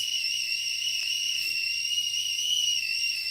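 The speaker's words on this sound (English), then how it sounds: "You hear that whistling kettle" A kettle whistles steadily in a quiet room, a sustained, even, high-pitched tone held for several seconds without breaks, moderately loud and close by.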